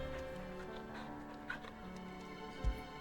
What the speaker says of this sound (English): You can pet the dog!